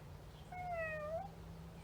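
A single drawn-out meow from a small cat, clear and fairly close, rising then falling over about a second against quiet background hum.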